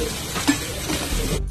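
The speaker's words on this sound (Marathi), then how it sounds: "आता कांदे परतून घेऊ मस्तपैकी आपण। कांदे आपल्याला थोडेसे सोनेरी रंग येईपर्यंत तळून" Chopped onions sizzle and crackle steadily in a hot pan as they fry toward golden, with a faint clink of a utensil near the middle.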